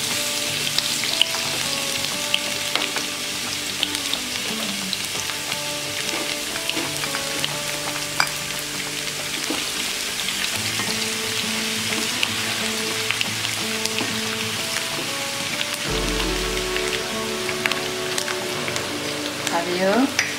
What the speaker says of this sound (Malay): bawang putih, bawang merah, halia, tumis dahulu sehingga naik bau.